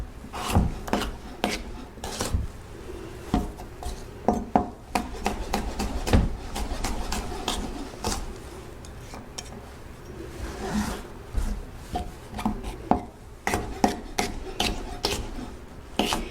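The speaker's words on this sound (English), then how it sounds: "You can hear this pepper is pretty tough." Kitchen knife cutting through a tough pepper, a series of irregular crunchy chops and scraping rasps on a cutting board, close and fairly loud with no talk.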